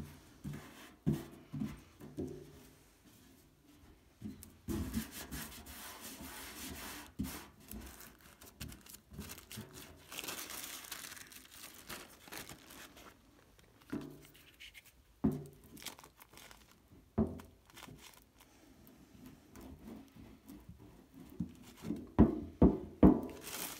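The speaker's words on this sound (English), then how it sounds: "I'll just tear these bits off there." Vintage paper pattern pieces and fabric bits are torn off by hand while a box or caddy is made. The clip brings irregular crinkling, ripping and rustling bursts close up, growing busier toward the end.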